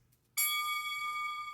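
A boxing ring bell, processed to ring like a Tibetan singing bowl, strikes once with a sudden onset and then sustains a bright, pure shimmering tone that fades only slightly.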